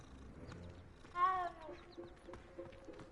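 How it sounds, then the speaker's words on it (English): A cat meows once in the video game Hogwarts Legacy, a short, clear, rising mew standing out over quiet game ambience and faint background sounds. "In this game, you can pet little kitty cats. Oh, look at the little kitty cat."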